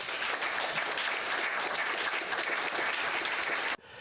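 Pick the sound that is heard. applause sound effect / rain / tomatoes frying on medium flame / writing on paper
applause sound effect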